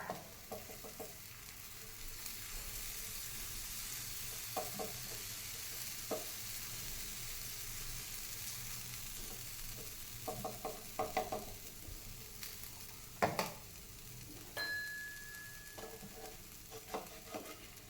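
Jowar dosa spread with onion chili paste roasting crisp in a little oil on a pan, a soft continuous sizzle broken by scattered scraping and clinking of a spatula.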